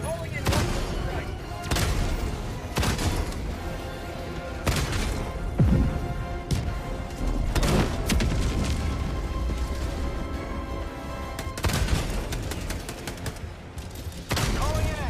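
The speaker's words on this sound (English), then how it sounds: "Calling in orbital strike." Orbital strike explosions in Helldivers 2 arrive as a barrage of heavy booms and cracking blasts, loud and close, mixed with rapid gunfire across the whole stretch, with voices talking in between.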